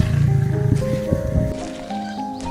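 Deep, rumbling roar of a lion in the wild savanna, low and drawn out, heard close and loud beneath a sustained musical drone.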